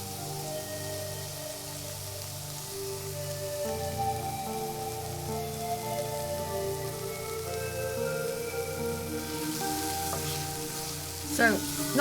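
Pan frying on a stove in the video game Scarlet Hollow: a continuous crackling sizzle beneath sustained background music, with a brief clatter near the end.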